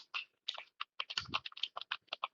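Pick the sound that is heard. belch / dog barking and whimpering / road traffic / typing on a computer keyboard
typing on a computer keyboard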